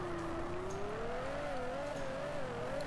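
A car drifting on a Japanese mountain touge road in Drift Streets Japan holds a steady, wavering engine note, rising gently and wobbling with throttle, loud and close with no voices.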